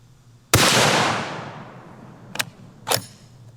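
A single loud MK22 sniper rifle shot rings out with a long rolling echo that fades slowly, followed by two brief sharp clicks or knocks nearby.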